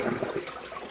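Rinse water drains out of a container of freshly dyed Icelandic wool yarn with a short, close gurgling and splashing that tapers off within a second.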